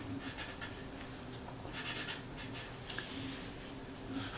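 Soft pencil strokes scratch across paper while sketching the hands and fingers of a fashion figure, short quiet scribbles in uneven bursts with a couple of light taps, close and faint.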